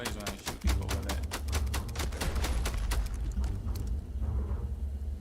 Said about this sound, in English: It doesn't really make that much noise when I shoot people with it.